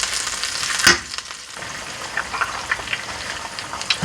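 Eggs scrambling in a pot with a teaspoon of coconut oil, a steady close sizzle and crackle with a louder stir or scrape near the start and small pops throughout, no talking.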